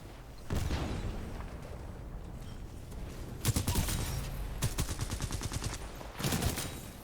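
Bursts of automatic gunfire from a Titanfall 2 match, several rapid volleys and single cracks layered over a steady game soundscape, with no talking.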